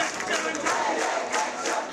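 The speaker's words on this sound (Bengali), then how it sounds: "বিভিন্ন পোস্টার প্রদর্শন করে স্লোগান দেন তারা" Crowd of technical students chanting slogans together at a street protest in Tejgaon, Dhaka, a dense roaring mass of voices rising and falling in rhythmic surges.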